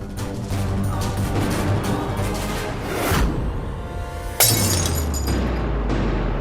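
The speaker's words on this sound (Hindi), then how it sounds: "कांच का टूटना तो अच्छा नहीं माना जाता ना" Glass shattering in a home, a sudden crash and scatter of breaking shards over a steady background of music and room noise, close and loud.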